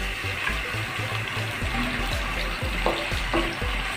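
Marinated mutton sizzles and crackles in hot oil in a cooking pot, a steady bubbling fry with soft scraping and light knocks underneath, moderately close and with no voices.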